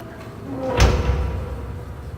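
A door in the Riven game world opens with a single low rumbling thud that swells and then lingers as a soft resonant tail, heard close and alone.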